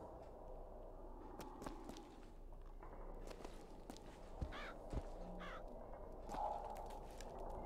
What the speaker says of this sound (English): Just surrounded by a bunch of crows.